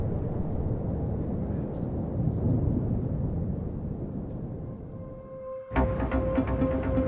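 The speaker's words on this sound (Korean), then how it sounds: "활화산은 엄청난 화산재를 분출하며 폭발했죠." The Shinmoedake volcano on Kyushu erupts explosively, spewing ash, heard as a continuous deep rumbling roar that fades slightly before a sudden sharp burst with ringing tonal layers near the end.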